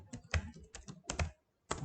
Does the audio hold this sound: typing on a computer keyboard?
yes